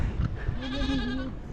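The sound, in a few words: goat bleating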